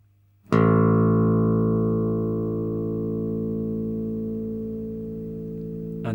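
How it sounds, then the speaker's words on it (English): A bass guitar's open A string is plucked once and rings on alone, a steady low note with rich harmonics that slowly fades over several seconds. "The third string is known as the A string and is tuned to the note of A"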